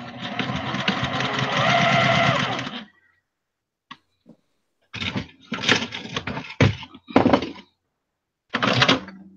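A sewing machine stitches a quarter-inch seam on a quilted handbag, one steady whirring run followed by several short bursts of stitching separated by silent pauses, close and fairly loud.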